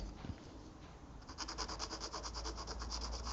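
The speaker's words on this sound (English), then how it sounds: "I'm just going to take that graphite tip there and just rub it where this is built up." Graphite pencil tip rubbed back and forth on a router bit, faint at first and then a close, quick, rhythmic scraping with many short even strokes.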